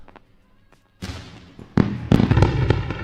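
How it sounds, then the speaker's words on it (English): A fireworks show sound effect opens with a few faint pops, then erupts into dense, loud crackling bursts and booms that build and overlap continuously. "Time to run the fireworks show."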